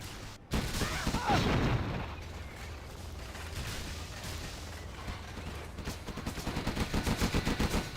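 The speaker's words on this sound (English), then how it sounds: "SiZe does have chain guns." Chain gun fire from units in the real-time strategy game Command & Conquer Generals, a dense, continuous rattle of rapid shots with heavy booming impacts, the bursts speeding into a fast rhythmic stutter toward the end.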